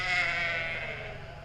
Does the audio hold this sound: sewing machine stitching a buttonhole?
no